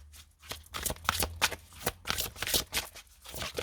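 Oracle cards being shuffled and drawn, a close, steady run of papery riffling and flicking bursts with no voices.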